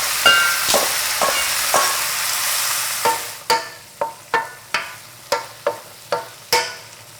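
Squash chunks and leftover juice hit a hot pan with a loud, steady sizzle. A spoon then clacks and stirs in about ten regular strikes as the frying continues underneath.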